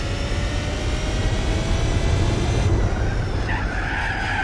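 A car in Gran Turismo 4 runs wide onto sand and skids, with steady engine roar and a rising tyre-scrub hiss that grows louder near the end, continuous and close throughout.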